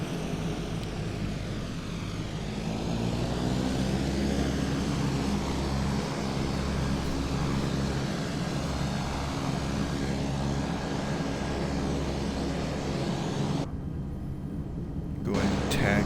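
A military cargo aircraft taxis at Nellis Air Force Base in Microsoft Flight Simulator, its engines droning steadily at a constant, loud, close level throughout, with a brief dip in the upper hiss near the end.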